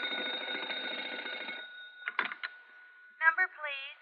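A telephone call to a hotel operator in an old-time radio drama: a buzzing ring tone that fades, then a short run of clicks from the line and a brief, quick voice.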